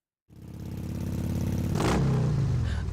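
A motorcycle engine in Fate/Grand Order starts up and holds a loud, steady rumble, then revs sharply to a higher pitch near the two-second mark before settling back, close and with no voices.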